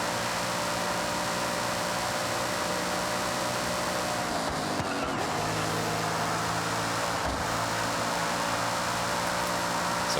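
A racing car engine in the Forza Horizon 6 video game drones steadily and loudly throughout, with a constant hum and a couple of brief dips in pitch as the car shifts or brakes.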